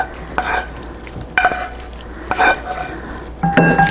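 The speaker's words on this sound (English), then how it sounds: "we're going to spoon these onions into a mixing bowl here" Cooked yellow onions scooped with a spoon into a mixing bowl for French onion chip dip, giving four soft, wet scraping and plopping sounds spaced about a second apart, close and moderately loud.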